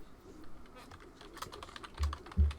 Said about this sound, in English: I was in the middle of typing